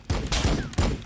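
Gunfire rattles out in Warhammer 40,000: Battlesector as a few sharp, loud bursts of shots in quick succession, set against a dense battle backdrop.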